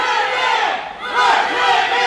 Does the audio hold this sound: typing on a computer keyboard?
no